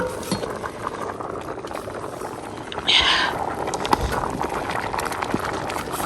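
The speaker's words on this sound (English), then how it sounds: "This is our lunch. It's cooking." Lunch cooking in a pot in a village home, a continuous bubbling boil close by with occasional clinks and a brief louder hiss partway through.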